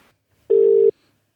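A single short electronic tone on a telephone line as a call connects, clean and steady for under half a second before silence.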